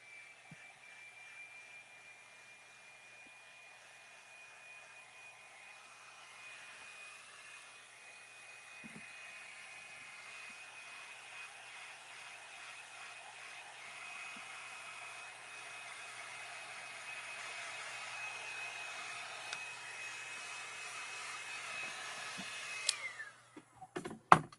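Hair dryer blowing steadily on a painted junk journal page, a continuous whirring hiss held for about twenty seconds that gradually grows louder before clicking off at the end.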